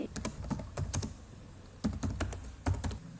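Typing a customer's name on a computer keyboard while setting up an account in ERP accounting software: close, crisp key clicks in quick bursts, with a pause of about a second midway.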